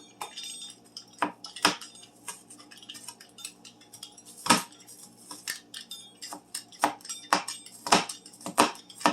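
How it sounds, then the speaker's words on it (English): A pizza cutter mincing leftover turkey on a cutting board, sharp irregular clacks and scrapes of the blade against the board, close and clear, repeating unevenly over a faint hum. "we're going to dice it up even smaller into a mince with a pizza cutter"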